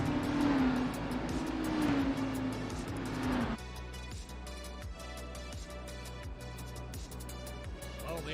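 ARCA race car, an older B Series stock car, idles and revs its engine on the grid before the green flag at Kentucky; a loud, steady engine drone fills the first few seconds, then drops to a lower rumble with rhythmic pulses.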